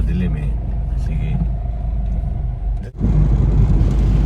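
Interior rumble of a family car on an early-morning drive, a low steady engine and road drone close up, briefly dipping before swelling back, with a voice speaking faintly over it.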